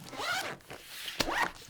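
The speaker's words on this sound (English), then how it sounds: "I'm not going to be able to zip this deck shut." Zipper dragged along an overfull card deck case, two distinct rasping pulls separated by a short pause, close and clear with no talk.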